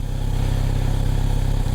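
Kawasaki Z900RS four-cylinder motorcycle engine, with four exhaust pipes merging into a chrome collector, running at a steady, loud low rumble with an even throb and no voices.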